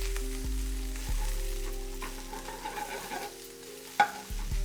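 Italian sausage, onions and pepper rings fry and get stirred in a pan, a steady sizzle with scraping stir strokes and one sharp clank near the end.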